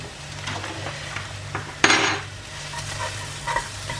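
Curried mussels are stirred in a pot, with scraping and clinking of a utensil against the pot over a low simmer, including one sharp, louder clatter partway through.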